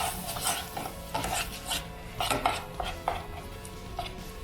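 Food being stirred in a pan, repeated scraping and rasping of a utensil against the pan bottom in an uneven rhythm, close and fairly clear with no talk.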